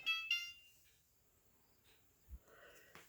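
Two quick electronic timer beeps sound at the start, high and thin, followed by faint clicks and soft handling noises in an otherwise quiet room.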